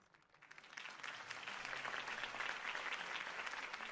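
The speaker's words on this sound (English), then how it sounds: "If only Mr. Wayne, my campaign's largest backer, could have heard that applause" Campaign rally crowd breaking into applause for a mayoral candidate, clapping swelling from a quiet start into dense, sustained cheering and handclaps that fill the space without any speech over them.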